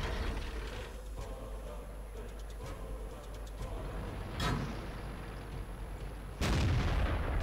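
A heavy tank cannon in World of Tanks booms twice over a constant engine rumble, the second shot sharper and closer, with faint mechanical clanks between.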